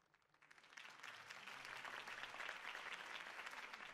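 Crowd applause in the Batman Telltale video game swells from a quiet start into steady, dense clapping and cheering that holds loud for several seconds.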